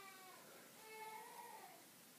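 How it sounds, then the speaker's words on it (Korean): A baby cries somewhere outside, a faint, distant wavering wail that rises and falls over a couple of seconds beneath a quiet background hiss. "밖에서 애기가 울고 있어가지고"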